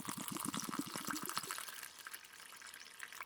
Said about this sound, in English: We'll go ahead and dump that in a mess cup.